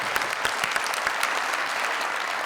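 An audience applauds for a beauty cream contest winner on a TV show, a dense, steady burst of clapping heard alone.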